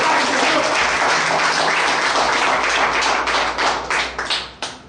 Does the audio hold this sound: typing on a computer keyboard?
no